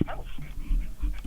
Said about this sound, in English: I can hear the dog